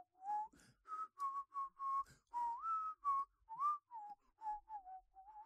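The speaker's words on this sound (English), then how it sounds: "Earl Whistles Disney" A man whistles a Disney tune in a clear, close melodic line of short connected phrases, alone with no talk, from a novelty album advert.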